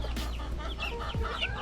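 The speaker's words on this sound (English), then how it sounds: "Chickens love bananas." Chickens cluck and murmur close by while being fed banana pieces in an off-grid Hawaiian yard, with overlapping soft calls and no talking.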